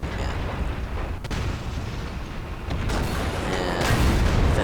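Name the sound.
tank cannon shot in World of Tanks video game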